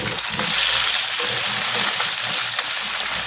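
Potatoes fry in a pan with a steady, dense sizzle and crackle, continuous and close throughout, with light stirring sloshes.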